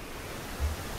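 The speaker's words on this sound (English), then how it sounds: "I can't hear what she's saying because of the strong wind and the sound of the waves" Strong wind and crashing waves in a video game, a dense steady roar of broadband noise, loud and continuous with a slight low surge.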